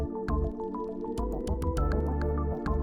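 Water drips steadily in the video game OMORI, each drop a light plinking tap over a sustained musical background, repeating in a loose rhythm.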